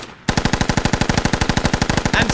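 Rapid automatic gunfire in the video game Squad during a smoke round launch, a loud, close, evenly spaced burst of about two dozen shots following a brief quiet moment, with no voices over it.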